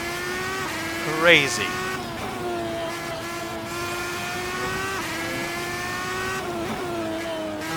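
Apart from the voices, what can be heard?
Red Bull X2010 race car driving at speed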